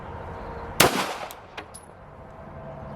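A single sharp pistol shot from a Staccato-P or Glock, fired sideways, cracks loud and close with a short decaying tail, followed by a couple of faint clicks.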